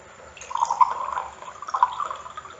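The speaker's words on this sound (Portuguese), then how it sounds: "Eu vou colocar aqui a água que está na forma da garrafa, da jarra." Water poured from a jug into a large glass, a steady trickle with a bright splashing, filling sound. The pour runs close and alone, swelling twice before easing off.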